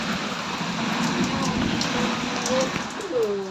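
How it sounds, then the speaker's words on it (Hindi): Light rain pattering steadily on a surface, with a soft wind-like hiss throughout and faint, brief tonal sounds near the end. "पवन भी हो हल्का हल्का वर्षा भी हो"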